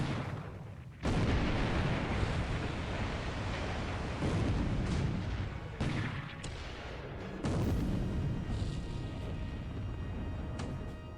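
Heavy naval cruiser guns, the Portland and Minneapolis, fire in a video game night battle in the Coral Sea, with loud booming salvos at about 1, 6 and 7.5 seconds over a sustained rumbling roar, with no talking.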